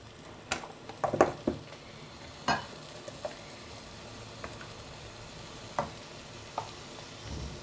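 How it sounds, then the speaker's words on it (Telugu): Taro root curry frying in a pan with garam masala, heard as a low steady sizzle with a few sharp stirring scrapes and clinks of a spoon spaced through it, fairly quiet and without talk. "ఫ్రై చేసుకుందాము."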